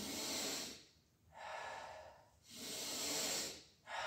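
Breathing during a pulling exercise comes as three loud, close airy breaths separated by short pauses, each a rushing breath in or out.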